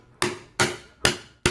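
A hammer drives a flathead screwdriver into the moulded plastic part of a chair, giving four loud, sharp metallic taps at a steady spacing, each ringing briefly before the next.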